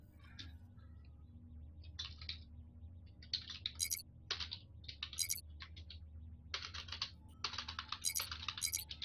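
Someone types on a computer keyboard in short, irregular bursts of quick clicking keystrokes, close and fairly faint over a low steady hum.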